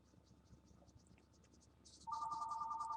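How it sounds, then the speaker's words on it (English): A mobile phone starts ringing partway through, a loud, steady electronic trill that warbles in rapid pulses, cutting in abruptly over faint background ticking and chirps. "Oh, and there's my phone."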